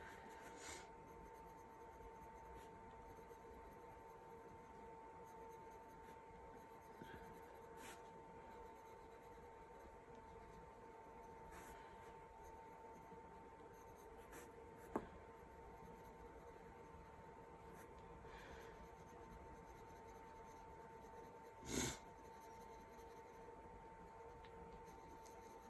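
Coloured pencil shades across paper in a steady, quiet scratching that runs on and on with light pressure, and a couple of soft taps stand out along the way.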